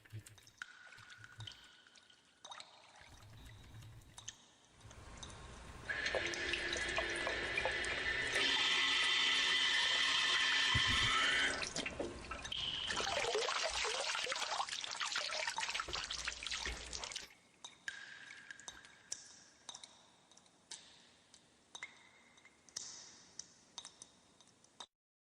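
Game audio from the Shower Town bathroom in MapleStory, with running water that pours and splashes in a loud, steady middle stretch. Softer drips and trickles come before and after it.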